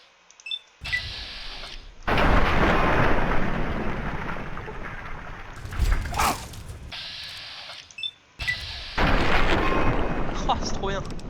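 Heavy large-calibre gunfire from Fallout 3, booming blasts with rumbling tails and bursts of debris-like crackle, loud and close, repeating several times with short gaps of near silence between.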